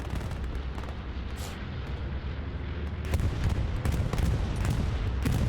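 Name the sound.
rocket explosion in the video game Hell Let Loose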